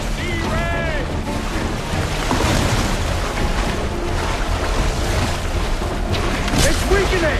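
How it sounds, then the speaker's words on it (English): A harpoon blast booms out at sea in Assassin's Creed 4: Black Flag, a Caribbean naval hunt, thumping over steady waves, wind and creaking boat noise, with a voice calling out partway through. "The blast has torn the rope!"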